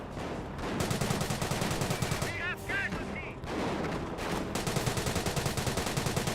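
Rifle and machine-gun fire in the World War II strategy game Company of Heroes, dense rapid bursts and single shots rattling continuously with distant battle noise, under a commentator's voice.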